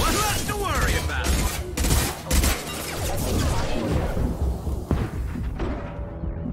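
Robotic mechs fire guns in Mass Effect 2, a series of loud crashing shots and thuds over about six seconds, mixed with voices from the game.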